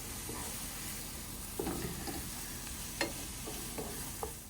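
A scramble sizzles and fries in a pan at a campsite, a steady close hiss broken by a few soft scrapes and clinks of stirring.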